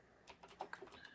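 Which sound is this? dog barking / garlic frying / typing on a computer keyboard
typing on a computer keyboard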